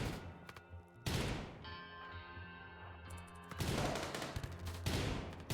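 Bursts of gunfire in the colony game RimWorld, dense rattling volleys that stop, leave a humming gap, then resume in loud overlapping clusters with no talking.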